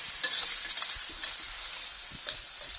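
Blue swimmer crab is scooped out of a sizzling wok, a bright steady frying hiss up close with a few scraping, clunking utensil knocks as the pieces are lifted out.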